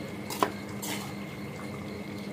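Plates and utensils clink softly as Schezwan noodles are served onto a plate in a home kitchen, one sharp clatter followed by a brief scraping sound over quiet room noise.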